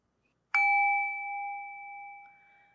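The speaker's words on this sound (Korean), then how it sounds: "고민 사연 이야기하고 나서 종을 치니까" A small bell struck once on a talk show after a listener's story, one clear, close ding that rings on as a pure sustained tone and slowly fades.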